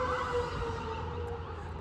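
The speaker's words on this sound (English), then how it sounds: "Sorry for the ambulance." An ambulance siren wails outside in Murfreesboro, a steady rising and falling tone heard muffled through walls, fairly faint and continuous over a low background rumble.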